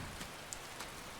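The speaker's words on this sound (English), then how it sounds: "I also shouldn't have said anything about the rain letting up because now it's not gonna let up." Steady rain falls in Skyrim near Falkreath, a soft, even hiss of drops with faint scattered patters, quiet and continuous throughout.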